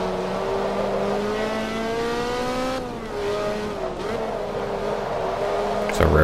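A race car being driven in Forza Motorsport 2 drones with a steady engine note that shifts pitch as it revs and changes gear, loud and continuous, with a sharp knock near the end.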